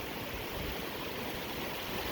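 A small creek crossing on a mountain hiking trail in Colorado, its water rushing in a steady broadband wash that holds level throughout, with no voices.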